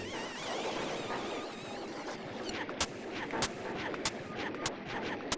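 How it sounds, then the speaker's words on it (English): Bombs exploding in the SNES game Bart's Nightmare: sharp, repeated blasts that grow more frequent, set against a dense, constant wash of noisy game sound. "they're throwing bombs at me or something"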